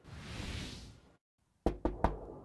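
Three sharp knocks on a front door, evenly spaced and close, following a stretch of muffled room noise and a brief silence.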